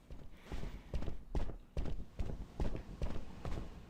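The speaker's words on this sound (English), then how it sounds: "get used to the sound of those footsteps" Footsteps in the video game Sleepin' Deeply thud along in a steady walking rhythm, about two steps per second, close and moderately loud with no talking over them.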